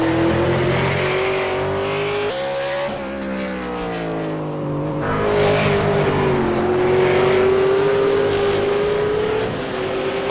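A V8 Supercar in a racing video game at the Okayama circuit screams through a corner and onto a flying lap, its engine note climbing and falling through gear changes, loud and close throughout.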